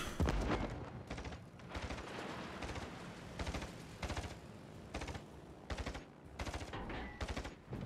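Naval gunfire from warships in the World of Warships video game, dense volleys of booming shots and bursts in rapid irregular clusters, loud and continuous throughout, with no talk.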